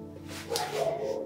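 A small dog barks a few times at moderate distance, short yappy bursts over a low steady hum in a quiet room.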